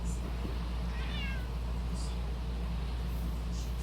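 A cat named Oliver gives a short, fairly faint meow amid steady background hum.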